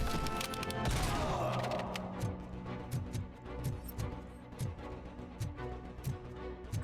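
Rapid bursts of full-auto gunfire from a weapon in the video game RoboCop: Rogue City, sustained and loud, with repeated sharp shots and impacts continuing for several seconds.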